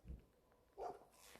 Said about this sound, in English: What are you barking at?